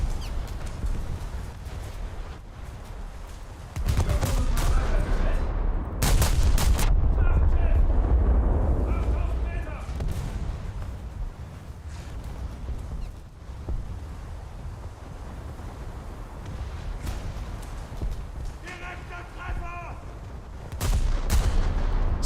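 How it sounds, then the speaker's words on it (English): Heavy naval gunfire in a warship video game as a battle fleet engages a dreadnought, with deep booming blasts arriving in clusters against a steady roar of wind and sea, loud at first and then rumbling on at a distance. "Seems I'm not the only thing shooting at this dreadnought, at least."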